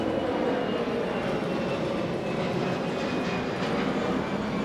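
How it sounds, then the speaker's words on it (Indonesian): Airplane passing overhead near Halim airport in Jakarta, a steady broadband roar holding level throughout like a low-flying jet, continuous and fairly loud with no talk over it. "ada pesawat lewat"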